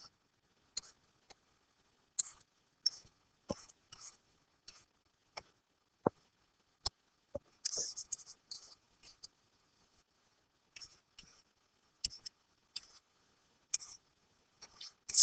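Pen or marker strokes on a board or paper come as faint, sparse taps and brief scratches at an irregular pace, quiet and close, with no talk.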